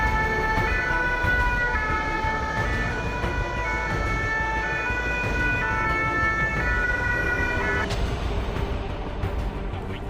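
Fire engines pull out with sirens wailing during a fire service response-time drill, a loud steady siren tone over engine rumble that cuts off abruptly near the end.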